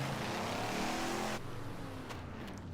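Race car engines in Wreckfest rev hard together in a loud, buzzing drone that drops suddenly partway through, leaving a lower rumble with faint tire noise.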